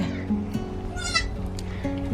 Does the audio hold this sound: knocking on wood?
no